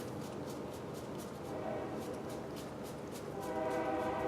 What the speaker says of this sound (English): I live actually close by train tracks, despite living in the middle of the woods.